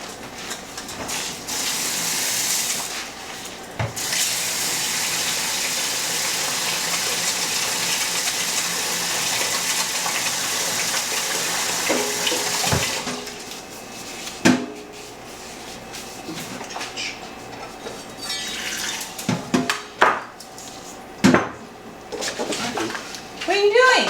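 A kitchen tap runs with a steady broad rush while rice is rinsed, then stops, followed by clinks and knocks of a pot and bowl, with people talking.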